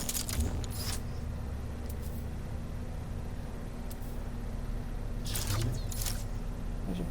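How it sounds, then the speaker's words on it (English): Weapon fire from a bolt caster in No Man's Sky: two bursts of broadband shots, one early and one near the end, over a constant low ambient hum. "Well, I'm definitely shooting something."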